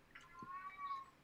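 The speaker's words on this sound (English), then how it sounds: "Loudest fucking cat" A cat meows loudly once, a drawn-out, wavering cry heard faintly at a distance with a little background noise and no talk.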